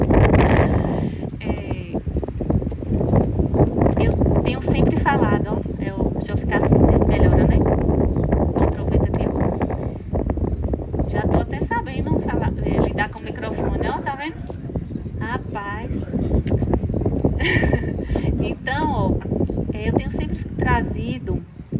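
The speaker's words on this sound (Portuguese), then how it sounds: "Agora o vento veio." Wind buffets an outdoor microphone at a spiritist gathering, heavy low rumbling gusts running continuously beneath someone speaking throughout.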